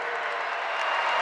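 A basketball arena crowd roars in a dense, sustained wash of cheering and clapping during a college game, with a commentator's voice faintly mixed in.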